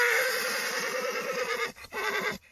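Horses of the old Tatar breed at a horse race whinny loudly and repeatedly, with a stretched neigh carrying across the first half and further whinnies over a low rumble of hooves and crowd noise.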